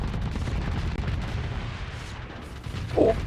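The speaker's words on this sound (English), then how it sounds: "Oh, there's a lot of missiles." Missiles and explosions in space combat, a continuous low rumbling barrage with a louder burst near the end.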